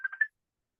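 A phone rings during an online presentation, sounding as a short burst of three quick electronic tone pulses that stop after about a third of a second, faint and alone without talk.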